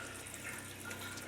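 Pink antifreeze running through the plumbing of a Leisure Travel Vans RV from an opened outside shower tap during winterizing, a steady close rush of flowing water.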